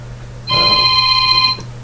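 A single telephone ring, a bright electronic trill lasting about a second, heard close up in a quiet room.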